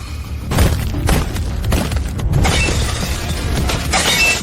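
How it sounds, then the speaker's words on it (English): Objects smashed during a tense confrontation over unpaid debt: a run of loud, close crashes and heavy thuds with some shattering, coming in quick bursts with no talking. "Please stop smashing things."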